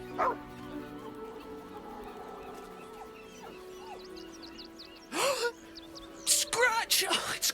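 Scratch, a dog in the video game Baldur's Gate 3, gives a few short barks and whimpers mixed with in-game character voices, against a quiet ambient backdrop.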